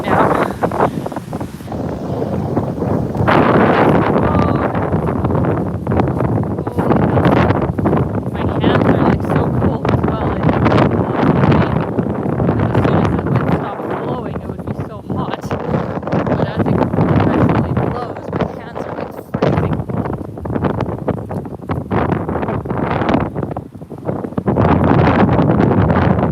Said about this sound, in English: I'm so sorry about this wind if it's messing up the audio. It is just so strong right now.